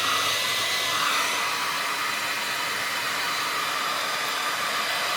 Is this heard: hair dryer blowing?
yes